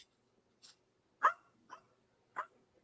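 A small dog named Fluffer barks in a room, four short separate yaps spaced about half a second apart, fairly faint and with no talk over them.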